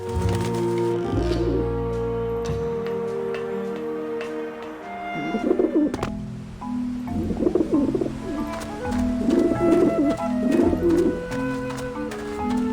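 Pigeons or doves coo in several short bursts on a rooftop in the video game Grim Fandango, heard over steady background music with a low ambient drone.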